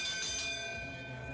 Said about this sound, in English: the bell for Yin now in the lead